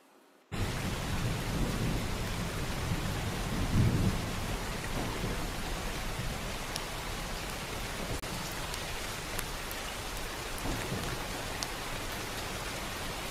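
Steady heavy rain pours down on surfaces with rolling thunder rumbling through it, loudest in a low swell near the start, then a continuous close downpour with scattered drops and no voices.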